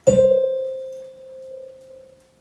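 A single sustained musical note C rings out clearly, starting with a bright attack and slowly fading over about two seconds, with no other sounds.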